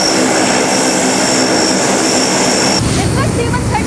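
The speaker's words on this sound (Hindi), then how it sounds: "इस वक्त C-130 का इंजन स्टार्ट हो चुका है।" Turboprop engines of a C-130 military transport aircraft run loud and steady before takeoff, a continuous droning roar with a high whine, shifting in tone near the end.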